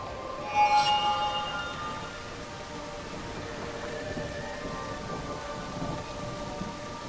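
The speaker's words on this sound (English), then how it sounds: "A rumble of thunder, a sudden surprise" Video game thunder cracks and rumbles near the start over steady, hissing rain, with some tonal game sounds briefly on top before the downpour continues evenly.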